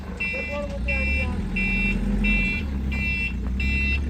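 A chick delivery truck backs into a farm, its reversing alarm beeping in a steady repeated rhythm over a low engine rumble, while people talk nearby.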